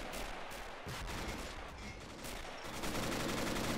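Flak gunfire in the Men of War video game is a dense, continuous crackle of rapid distant shots and rumbling blasts. It stays steady and noisy throughout, with no talking over it.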